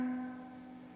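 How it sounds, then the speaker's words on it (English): A single guitar note on the D string at the 10th fret, picked with an upstroke, rings out alone and sustains steadily as it slowly fades. "Now pick that note, your D string 10th fret, in an upward motion."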